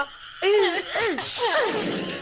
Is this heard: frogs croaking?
yes